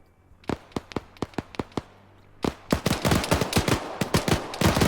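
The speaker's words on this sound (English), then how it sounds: "Few grenades going off again." Grenades and small arms go off in the Arma 3 military shooter: a row of sharp, evenly spaced bangs, then a denser, louder cluster of overlapping blasts and shots.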